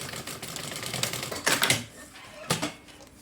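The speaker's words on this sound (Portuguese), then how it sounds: "E aí eu vou fazer uma costurinha aqui, um pesponto." A sewing machine topstitches the zipper channel of a fabric bag in short, rattling bursts. Two louder runs stand out against quieter mechanical clicking.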